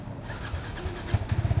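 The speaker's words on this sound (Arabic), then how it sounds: "الأب ما غاديش يعرف يديماري الموتور، ها هو الدري غادي يحاول باش يديماريه ليه" A new motorcycle being started by a son for his father: a cranking engine sputters in quick low pulses that grow into a short rhythmic burst of putters, moderately close, with no talk.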